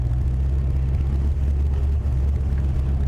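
Ford Cougar with a 5.0 V8 and Flowmaster exhaust idling close by, a steady deep rumble with a slight uneven lope from a lingering misfire, continuous and alone.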